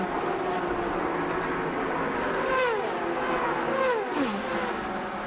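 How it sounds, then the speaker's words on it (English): At the 2008 Rolex 24 at Daytona, a Daytona Prototype race car roars past two GT cars on the banking, engines screaming with falling pitch as they sweep by amid constant track noise. "Daytona prototype stretching its legs and going by the 2 GT cars"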